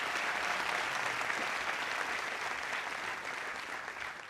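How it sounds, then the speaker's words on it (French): A crowd at a comedy show bursts into sustained, dense applause for the bridesmaids, a steady wash of clapping that holds at an even level and tapers slightly toward the end. "Est-ce qu'on peut acclamer très fort pour les filles d'honneur?"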